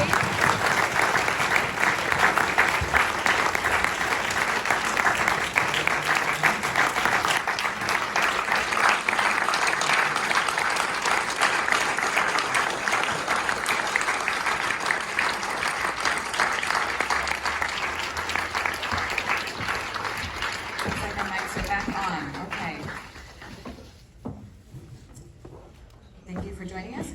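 A large audience applauds long and loudly as guests are welcomed onto a stage, a dense sustained wall of clapping that holds steady before thinning out and fading near the end.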